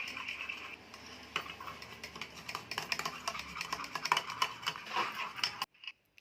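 Omelette batter being mixed in a home kitchen, quick repetitive clinks of a utensil against a bowl in an irregular stirring rhythm, fairly close and moderately quiet, ending abruptly.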